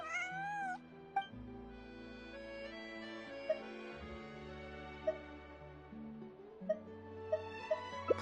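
A cat in the video game Genshin Impact gives a rising meow at the start, heard over steady, sustained game music that carries on beneath it with a few light plinking accents.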